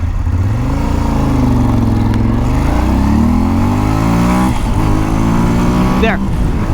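A motorcycle accelerates hard from a standstill to 60 mph, its loud close engine note rising through several gears with distinct pitch drops at each shift.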